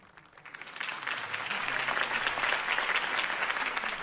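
Applause from a large crowd in the video game Batman: The Telltale Series swells up after a quiet start and keeps going as a dense, steady clatter of many hands clapping.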